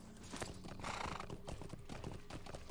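Video game horse with rhythmic clip-clop hooves and a whinny rising in the middle, faint and continuous, with no talking.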